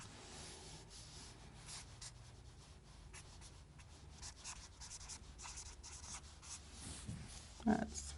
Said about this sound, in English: I'm just going to write them down just so you'll have reference